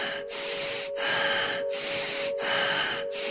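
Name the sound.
rough, deep and fast rasping breathing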